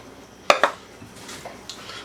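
Sourdough starter scraped and moved into a smaller bowl, giving two sharp close clinks of a utensil against the bowl followed by faint soft scraping and handling noises.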